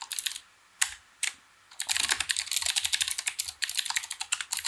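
Keys clatter on a computer keyboard while code is being written: a short burst, a pause with a couple of isolated taps, then rapid, continuous close-up typing with uneven rhythm until the end.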